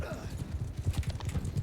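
A horse gallops in the Mount & Blade 2 Bannerlord game, its hooves a quick, steady run of close, loud clip-clop beats filling the whole moment.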